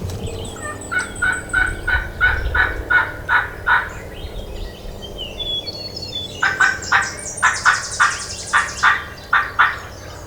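A wild turkey gobbles in two rapid rattling bursts, loud and fairly close outdoors, with faint bird chirps behind and no talking.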